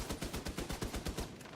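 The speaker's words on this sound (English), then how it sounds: "Stop shooting me, man." Rapid automatic gunfire from The Division 2, a fast rhythmic string of loud, evenly spaced shots with no talk over it.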